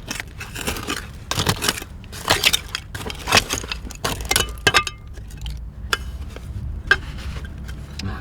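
Broken glass shards clinking and scraping while someone digs through an old buried trash layer, close sharp clinks and rattles in irregular bursts with quieter gaps.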